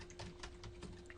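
Quiet, rapid keystrokes on a computer keyboard, a faint run of soft clicks in quick, uneven succession, alone with no talking.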